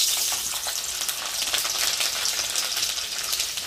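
Garlic sizzles in hot oil at the start of a duck recipe, a loud, steady, crackling fry that stays dense and unbroken from start to finish, with no talking.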